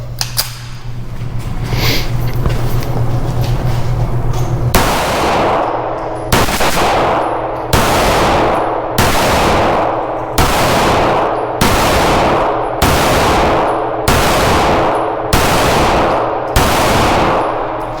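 Browning Hi Power 9mm pistol fired at 7 yards on a range: about ten loud, sharp shots in an even rhythm, each with a ringing decay, after a brief quiet stretch.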